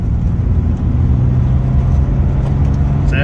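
Ford Falcon XH engine droning loud and steady from inside the car as it pulls through the gears, a continuous low rumble with a brief higher burst near the end.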